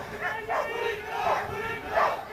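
An unruly crowd shouts during a Border Security Force dog crowd-control demonstration. Several loud, surging bursts of massed yelling rise and fall in rough waves, steady and near.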